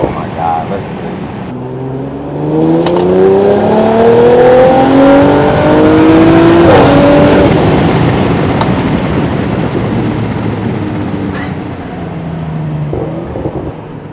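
A loud Audi RS5 engine revving hard, rising harmonic sweeps climbing and settling over several seconds, close and sustained with road and wind roar beneath.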